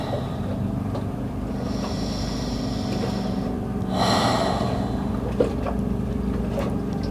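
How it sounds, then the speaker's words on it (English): A person breathes deeply and slowly during a relaxation exercise on a yoga mat, with a long, audible breath swelling near the middle over a steady background hush, no talking. "and breathe."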